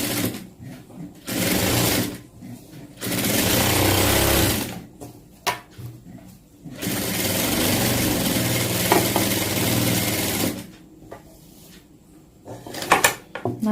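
A tailoring sewing machine stitches cloth in bursts of steady mechanical whirring, starting and stopping several times with short pauses between runs, close and fairly loud.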